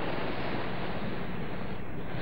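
A steady broadband wash of sea surf by the shore near Playita, Cuba, mixed with heavy wind buffeting the microphone, continuous and close throughout, with no speech.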